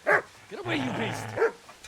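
A dog barks in the medieval video game Kingdom Come Deliverance. Two sharp barks sound close by, one at each end of a brief stretch where someone shouts.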